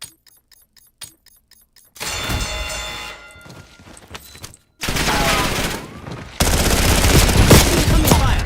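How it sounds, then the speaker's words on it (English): Gunfire bursts in the Warzone battle-royale game. Scattered single shots come first, then loud, dense volleys of automatic fire in long stretches, with brief gaps between them. "Incoming fire."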